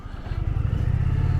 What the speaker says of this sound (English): Holy shit, that's a Rocket 3.